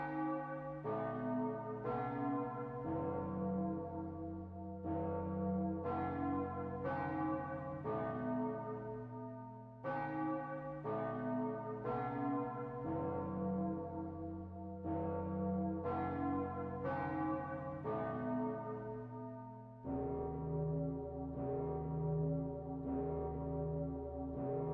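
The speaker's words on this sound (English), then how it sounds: "You can tell by how many, like, bell rings there are at the end of it." A deep church bell in the video game Red Reaper tolls the hour, a long sequence of resonant, evenly spaced rings with overlapping decays, loud and sustained with no voices.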